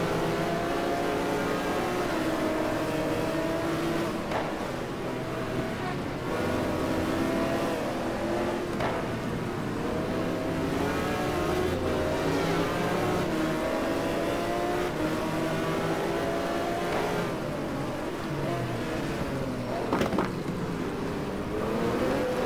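Several race cars in the Suzuka race of a GT1 racing video game run nose to tail, their engines droning loudly and steadily, rising and falling in pitch as they accelerate and shift.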